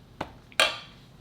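Cooked spaghetti being mixed with sauce in a bowl, heard as two close, sharp clinks of a utensil against the bowl, the second louder and ringing briefly before quiet returns.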